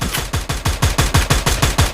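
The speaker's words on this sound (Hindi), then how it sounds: "गोलियों के ऊपर गोलियां चल रही हैं" Automatic gunfire in the battle-royale game Free Fire during an esports grand-final match: about a dozen rapid, evenly spaced loud shots in a continuous burst, with no voices.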